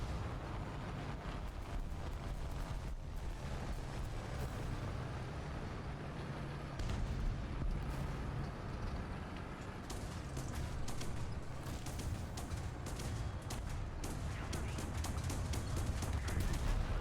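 Dense, continuous anti-aircraft fire in War Thunder: rapid overlapping gun bursts and booming flak over a heavy rumbling battle backdrop, steady and loud throughout with sharper volleys toward the end.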